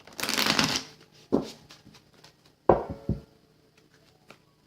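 Tarot cards shuffled in a quiet room: a long riffling burst up front, then two shorter crisp shuffles and a few faint taps, close and without talk.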